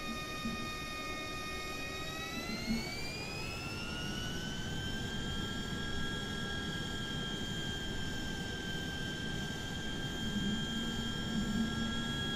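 A HondaJet's jet engines whine steadily while taxiing in Microsoft Flight Simulator 2020, with a rising turbine tone that settles into a constant high hum over a low rumble throughout.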